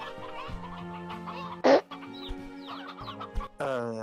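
Chickens cluck in the Slime Rancher 2 video game, a low steady game ambience with scattered short clucks and one loud squawking burst near the middle, plus another louder call at the end.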